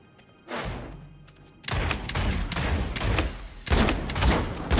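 Bursts of gunfire from Realm Royale Reforged, a quiet shot then heavy rapid volleys that run almost continuously, loud and close with booming thuds, no voices.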